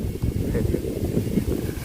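Outdoor wind gusting against a camera microphone produces a loud, continuous low rumbling buffet with no clear pauses, and no voices over it.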